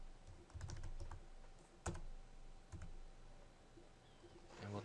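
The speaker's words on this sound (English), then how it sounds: "so we'll type in expiration date" Keys tapped on a computer keyboard while entering an expiration date into an online payment form: a few quiet, scattered clicks over a low steady room hum, with one sharper keystroke midway and a busier cluster at the end.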